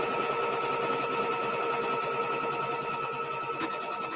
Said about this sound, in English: The next step is to stitch down that fabric.